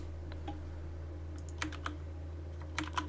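A few sparse, light key clicks from a computer keyboard while a label is typed onto a game piece in a Warmachine online tabletop session, faint over a steady low electrical hum.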